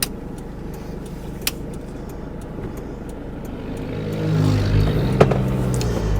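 A 1996 Autosleeper Executive camper van on a dual carriageway, its engine drone steady under road noise before swelling louder as it accelerates, with a brief knock partway through.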